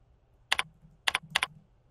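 A few sharp keystrokes on a computer keyboard type out a group name, close and clear in a quiet room: a quick pair, a pause, then two more tight pairs.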